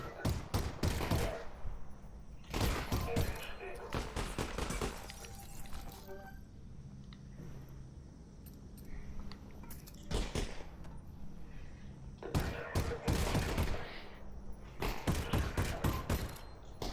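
Bursts of gunfire in Half-Life: Alyx, loud clustered volleys separated by quieter stretches of game ambience, with several rapid shot sequences across the span and no talking.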